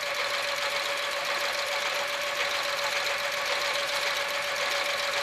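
A sewing machine stitching fabric and matching up seam stitches, running at a steady continuous hum with a fine rapid mechanical chatter, close and alone for the whole stretch.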